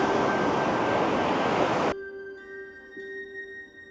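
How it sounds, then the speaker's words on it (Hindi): Sea waves on Haeundae beach in Busan wash in as a loud, steady broadband roar, then drop abruptly to a quieter wash with faint tonal background hum. "समुद्र की लहरों का शोर"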